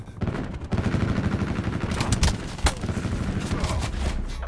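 Rapid assault rifle fire in Call of Duty: Black Ops 4 multiplayer, dense bursts of close, loud shots running through most of the stretch with a few sharper cracks.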